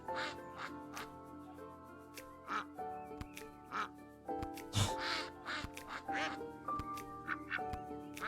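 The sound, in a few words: duck quacking in video game Lil Guardsman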